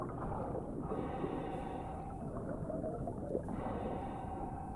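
Layla breathes steadily underwater while diving in Assassin's Creed Odyssey, slow muffled inhales and exhales rising and falling over a low, murky underwater drone with no speech.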